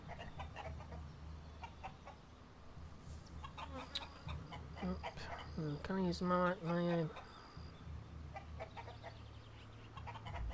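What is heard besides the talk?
cave bird clucking in video game ELEX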